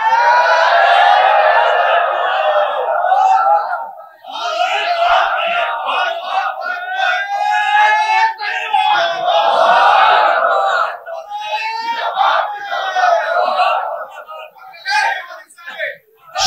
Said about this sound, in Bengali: আমরা স্লোগান দিয়ে তাকে বরণ করতে চাই।